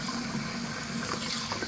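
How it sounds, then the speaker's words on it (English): Tap water runs steadily into a sink during sharpening-stone cleaning, a soft continuous splashing flow heard close and alone. "I'm just going to rinse the sink, get some nice fresh water in there"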